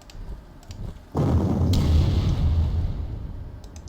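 A sudden heavy explosion hits as an anti-tank gun comes under attack in the World War II strategy game Panzer Corps, a single loud boom that rumbles and decays over a few seconds after a quieter start.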